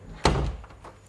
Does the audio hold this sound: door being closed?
yes